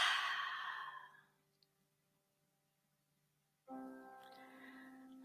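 A slow, breathy exhale during a guided breathing exercise fades out over about a second and a half, followed by near silence before a soft hum returns.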